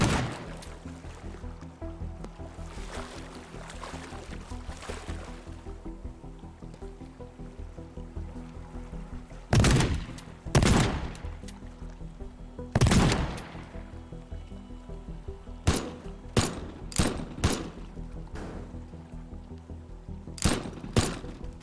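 Gunfire in the video game Teardown: a few sharp, loud shots spaced apart, then a quick string of five or six bursts, over a steady low background hum.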